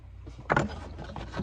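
Prying a heel part off an Allen Edmonds shoe during restoration gives a short woody creak and scrape, with one louder wrench in the middle, close and alone.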